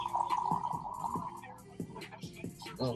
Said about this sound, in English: Whiskey be pouring.